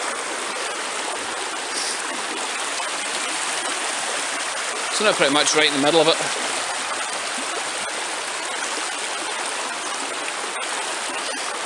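A shallow river with very little water flows steadily during a rocky river crossing, a broad continuous rushing wash with a brief splashy burst midway; someone talks briefly over it.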